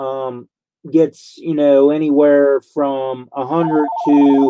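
A telephone rings with an incoming call, a short pulsing electronic ring rising under steady close talking from a man on a summer live stream at home.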